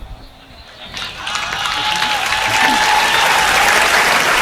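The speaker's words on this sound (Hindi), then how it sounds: "जोरदार ताली बजाओ यार" An audience bursts into applause at a Hindi poetry and comedy stage show, starting quietly and swelling into loud, sustained clapping from the whole crowd.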